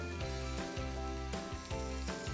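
Crab cakes sizzling and crackling in a hot frying pan on the stove, a steady loud fry with a few rhythmic bursts as pieces are flipped, no talking.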